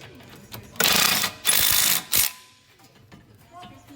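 Three short, loud bursts of an impact wrench tightening brake parts on a car, each a dense hammering rattle, separated by brief pauses with quiet shop noise around them.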